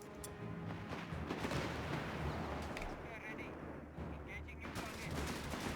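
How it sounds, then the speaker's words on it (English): Mortar fire in the Company of Heroes 3 war game, set in an Italian city battle: dull booming launches and blasts mixed into a dense, continuous din of gunfire and explosions. "Oh, that's my mortar"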